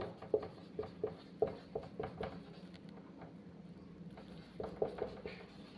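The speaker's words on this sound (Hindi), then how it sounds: "तो चलिए टॉपिक लिखते हैं" Pen or chalk writing out a topic heading during a physics lesson, a run of short scratchy strokes and taps spaced unevenly, close and fairly quiet, with no talking over them.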